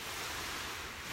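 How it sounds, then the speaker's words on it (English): Ocean waves wash onto a beach in a continuous broad rush of surf, steady and fairly loud with a faint touch of wind. "I could sit here all day and listen to the waves"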